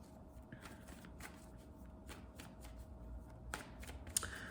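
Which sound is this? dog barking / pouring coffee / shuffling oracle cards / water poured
shuffling oracle cards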